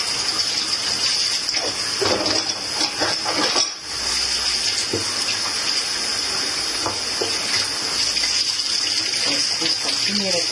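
Steady running water from a tap pours over juicer blades in a sink and washes them, a loud continuous gush that is close by, dips briefly partway through, then keeps rushing.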